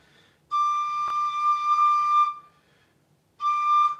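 A tin whistle plays a sustained, slightly breathy D note for about two seconds, pauses, then starts the note again, clear and close.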